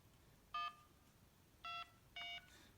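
Keypad dialing tones from a Motorola International 7000 mobile phone: three short, clear electronic beeps, evenly pitched and spaced about a second apart, faint and close against a quiet hiss.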